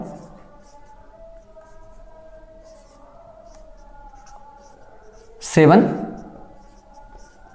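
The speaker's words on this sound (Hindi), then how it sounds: "मैं लिख देता हूं" A teacher writes on a board during a geography lesson, making scratchy strokes under steady talking, with one louder, sharper scrape near the end.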